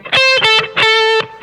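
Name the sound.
electric guitar flat third note, 13th fret B string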